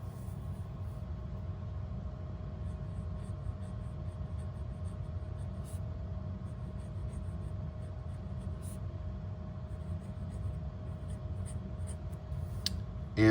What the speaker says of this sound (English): Okay, writing with the Moonman M800.